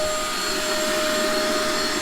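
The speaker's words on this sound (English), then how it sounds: "You can hear the vacuum going." A vacuum cleaner drones steadily in a workshop where an old 80 Series vehicle is being cleaned out, a loud continuous whine with a constant hum and no pauses.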